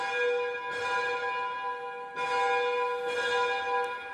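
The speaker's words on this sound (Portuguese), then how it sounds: "O sino da capela não é tocado só para anunciar missas ou funerais, mas também para afastar tempestades" A chapel church bell in a rural community rung to ward off storms, three strong struck tolls with long ringing, humming decay, loud and close, nothing else heard.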